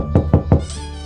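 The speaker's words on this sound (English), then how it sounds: "Let's knock on the door." Three sharp, evenly spaced knocks land on a workshop door, close and loud, followed by a brief ringing tail as the last one fades.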